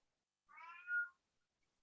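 A house cat meows once, a short, clear, rising-and-falling call near the microphone, with quiet before and after in a room during a committee meeting.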